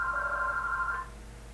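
A telephone rings indoors in a classroom-type setting, one steady electronic ring lasting about a second before cutting off, moderately loud over a low background hum.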